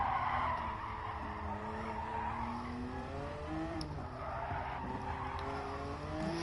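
A race car in a racing video game drones past with a rising and falling engine note and squealing tires, steady and fairly faint throughout.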